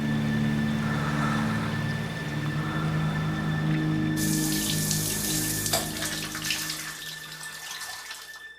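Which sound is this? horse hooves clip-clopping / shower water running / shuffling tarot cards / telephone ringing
shower water running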